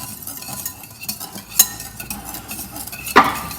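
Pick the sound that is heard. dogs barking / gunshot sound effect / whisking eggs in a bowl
whisking eggs in a bowl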